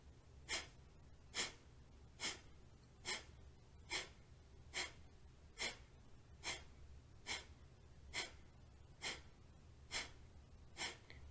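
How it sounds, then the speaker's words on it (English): Rapid breath-of-fire yoga breathing: thirteen sharp, evenly spaced nasal exhalations, roughly one every 0.8 seconds, close and moderately loud over a low steady background hum, with no talking. "we'll do another round of breath of fire for just a little bit longer"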